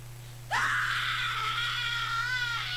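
A single loud, sustained high-pitched scream starts sharply after a brief silence and holds steady for about two seconds over a constant low background hum, with no talking.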